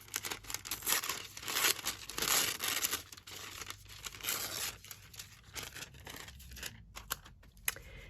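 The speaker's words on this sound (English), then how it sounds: "let's use a bit more of that lovely tissue paper" Tissue paper being crinkled and torn by hand for fabric embellishment, close crackling rustles in continuous bursts with brief pauses, no talking.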